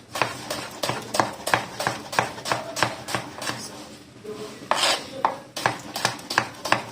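Rhythmic knife chops through cucumber on a cutting board, cutting it into cubes, a steady series of close, sharp taps with a brief pause midway.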